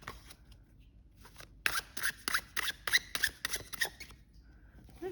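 A tarot card deck is being shuffled up close, with a quick run of sharp, crisp riffles and bridge-like snaps following a softer, quieter handling of the cards.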